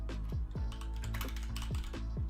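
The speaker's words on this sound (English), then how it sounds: "You're gonna hear some typing though" Rapid clacking on a computer keyboard, close and loud, a quick irregular run of sharp keystrokes with nobody speaking.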